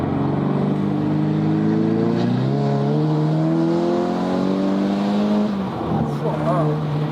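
A 400 hp Volkswagen Scirocco pulls hard from inside the cabin, its engine note climbing steadily through a long gear with a brief dip at a shift before rising again, while someone talks over it.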